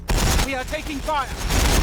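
Gunfire in the Warhammer 40,000: Battlesector strategy game, a dense battle-noise fusillade of rapid broadband bursts and booms filling the whole clip, with brief tonal game sounds over it.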